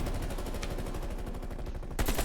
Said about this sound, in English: just spawned and people are shooting